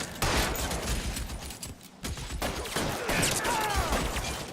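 Sustained gunfire fusillade from the L.A. Noire video game, dense overlapping shots and bursts running throughout, loud and near, with shouted voices mixed in.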